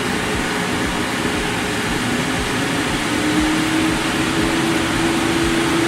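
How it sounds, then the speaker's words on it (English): Double screw machine with a new housing powering up, a loud steady mechanical drone and whir with a tone that gradually rises as it spins up, no voices. "we're going to power it up"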